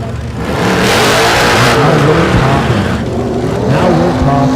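A race car at Thunder Valley drag strip in Noble, Oklahoma, running a two-stage nitrous kit with induction, roaring loud and close in a sustained, revving blast that rises and surges without pause.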